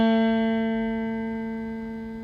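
A single guitar note on the G string, fretted with the third finger, rings clear and close, then slowly fades over about two seconds, alone and without voices.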